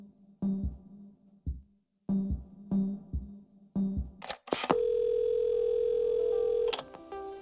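A telephone in the video game Assemble With Care plays several short, clicking rotary-style pulses and beeps, then a steady sustained dial tone hums for a few seconds before cutting off.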